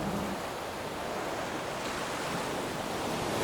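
Heavy sea surf crashing and washing across a ship's deck in a storm, a continuous loud roar of breaking water and spray with wind noise and no voices.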